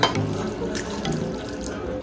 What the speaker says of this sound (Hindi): अब इसमें डालेगा वाटर